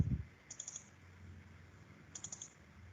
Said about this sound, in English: Okay, double click on it.